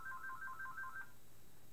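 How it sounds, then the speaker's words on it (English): A phone ringtone chirps in a quick repeating two-tone pattern, about six short bursts over a second, fairly soft against a quiet background before cutting off. "Phone is not for me, so I'm not going to answer it."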